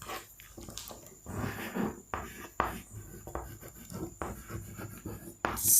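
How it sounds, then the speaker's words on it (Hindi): Pen strokes scratch across paper as notes are handwritten during a lecture on nervous tissue, close and quiet, in short irregular bursts of rubbing with brief pauses between words. "तो लिख लेते हैं यहाँ पे हम"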